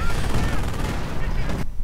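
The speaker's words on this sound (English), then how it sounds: "just enjoying the nice explosion" Artillery explosion hitting a cluster of German troops in a WWII video game, a loud, dense rumbling blast with crackling gunfire, sustained and close, then cutting off sharply.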